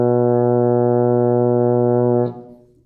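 A baritone horn holds a single steady open B flat, loud and close, for about two seconds, then cuts off and trails away into a brief decay.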